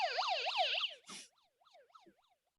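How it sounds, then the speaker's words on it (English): A small novelty siren mounted on a fire hat wails in rapid rising-and-falling sweeps, loud at first, then cuts off and continues as fainter, broken whoops. "it is a fire hat with a siren on it"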